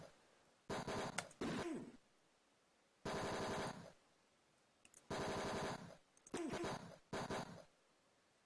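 Rapid bursts of digitized gunfire crackle in the Tex Murphy: Mean Streets video game, several harsh, buzzy volleys separated by short pauses, loud and close with no talking.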